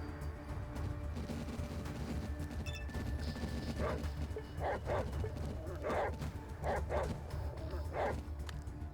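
Dog barks and yelps from ATOM RPG, a run of sharp, mid-distance bursts clustered over several seconds against a steady game background hum.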